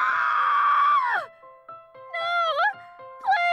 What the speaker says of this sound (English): The sudden scream had made him jump